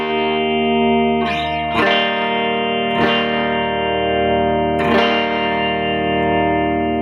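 Sustained guitar notes played twelve frets up ring with a wavering, beating fluctuation, a few plucks each decaying slowly and loudly with no talk.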